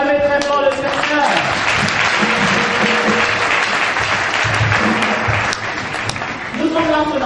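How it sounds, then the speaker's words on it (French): A church congregation claps and cheers loudly and steadily throughout at a worship service, with a voice speaking and music tones rising over the crowd. "Est-ce qu'on peut acclamer très fort le Seigneur?"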